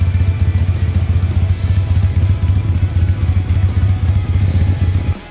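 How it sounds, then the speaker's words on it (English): A Harley Sportster and a 1986 Suzuki Intruder cruiser ride down a muddy dirt road, the engine a loud, close, low pulsing thump that beats in a steady rapid rhythm with no talk. "we're actually gonna ride down this muddy dirt road on the cruisers, try not to get stuck"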